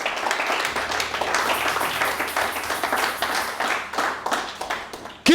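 A church congregation claps and applauds together in a continuous, rhythmic burst of many hands, fairly close and lively, with a brief voice cutting in at the very end.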